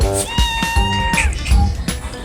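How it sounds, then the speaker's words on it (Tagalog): A pet cat named Marites meows loudly and close by, a drawn-out tonal cry among other short yowls and household noise. "At may Marites pa, yung pusa."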